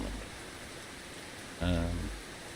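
Steady, soft rain hiss from the Russian Fishing 4 game, with a brief voice near the end.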